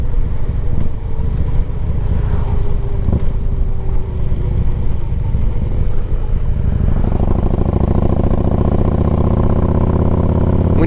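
A 2008 Harley Davidson Ultra Classic 105th Anniversary motorcycle runs with a deep, loud, steady engine rumble that swells into a heavier throb partway through, with no voices.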